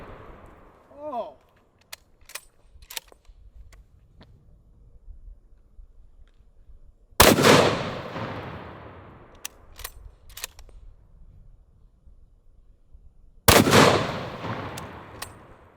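A 416 Honey Badger rifle firing lead expansion rounds: two loud, sharp shots about six seconds apart, each with a long ringing decay, plus small clicks and handling noises in between and a brief voice early on.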